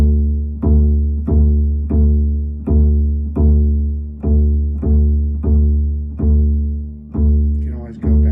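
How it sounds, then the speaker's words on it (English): A bass guitar's open D string is plucked repeatedly, about eleven even notes near one per second, each loud, close and ringing low before the next pluck, with no voices. "Okay, this is the D string."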